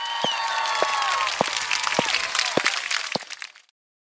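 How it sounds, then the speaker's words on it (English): A small crowd gives a round of applause: dense, steady clapping with a few louder claps on top. It lasts about three and a half seconds, then fades and stops abruptly. "Everyone give a round of applause."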